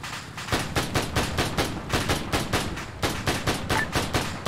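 A tripod-mounted MG42 machine gun in the game Arma firing one long sustained burst of rapid, evenly spaced shots, loud and close, with no voices.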